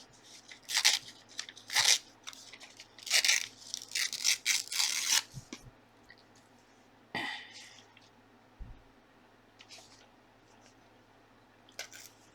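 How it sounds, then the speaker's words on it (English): Paper torn off a gluebook page: several close, crackly ripping bursts in the first half, followed by quieter isolated rustles and handling sounds with long pauses between them. "So let's tear this side off."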